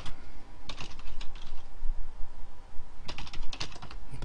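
Two bursts of quick, light keystrokes as a username is typed on a computer keyboard, close and clear, separated by a short pause, with no voice.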